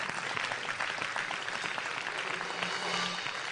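A congregation applauding during a shared French church service, steady dense clapping from many hands in a reverberant hall, sustained without a break.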